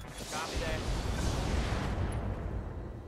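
Weapons fire in the RogueTech mech combat game, a sustained rumbling barrage of booms and blasts that stays loud and dense throughout.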